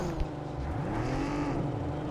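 Car driving in a drop-and-loot battle video game, a continuous engine drone with a rising, revving pitch, steady and fairly loud with no voices.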